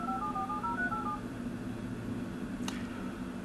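Phone dialing tones from a voice-activated Bluetooth call play as a rapid run of short beeps over a steady background hum, followed by a brief click.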